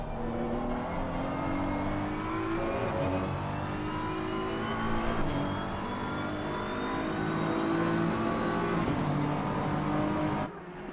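Race cars circuit-racing at Oulton Park, a steady engine drone with rising whines as cars accelerate and pass, heard at a distance throughout and fading at the end.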